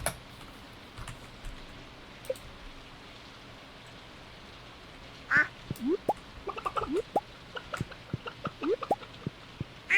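Duck quacking in the farming game Stardew Valley, a string of short nasal quacks in the second half over soft rainy background drips, no talking.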